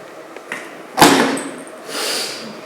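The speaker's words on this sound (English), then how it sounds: "she slams the journal shut" A journal is slammed shut after pages are turned, giving one sharp, close thud followed by a short rustle and a fainter trailing sound, with no speech.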